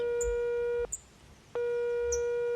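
Calls to a house landline go unanswered: two long steady tones, each about a second long, separated by a short silence, clear and close with no voices.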